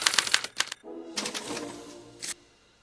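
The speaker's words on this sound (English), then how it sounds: "they're relayed to this special typewriter, which prints out a punch card that represents the subject's mind map" A typewriter in the Back to the Future video game rapidly clatters as it prints a punch card, keys striking in quick bursts, a pause, then another run of clacks ending with a sharp ding-like strike.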